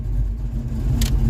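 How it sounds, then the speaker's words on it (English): A Ford Mustang engine idles with a steady low rumble and gets a light touch of gas, rising slightly, with a brief high hiss or whine near the end. "Give it a little gas."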